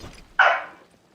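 A single short, sharp dog bark comes through close on an open microphone, fading quickly into near silence.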